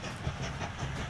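A train rolls along the rails through a winter landscape in Mashinky, a steady, dense rumble with a rhythmic clatter running through it, continuous and close.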